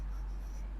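Pen or marker writing numbers by hand on a surface, a steady soft scratching that runs the whole short stretch, close and continuous with no talking.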